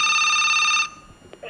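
A telephone rings steadily with bright electronic tones, picked up on air during a Thai radio call-in dharma program, then cuts off abruptly, leaving faint room noise and a voice starting at the end.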